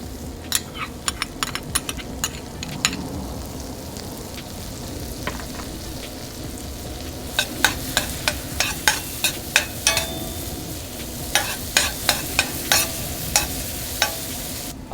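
Finely minced onions frying in butter in a pan on a propane side burner outdoors, a constant close sizzle broken by repeated sharp scraping and stirring clicks, no voices.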